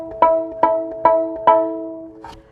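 A violin sounds the note E, first finger on the D string, four times as clear repeated strokes, each fading slightly before the next, followed by a softer fifth note.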